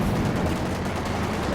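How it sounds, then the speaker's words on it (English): Dense, continuous gunfire and explosions from a Panzer IV command tank attacking a gun emplacement in the World War II strategy game Company of Heroes 2, loud and unbroken with no voices. "Here comes the Panzer IV command tank. Putting some damage onto this gun."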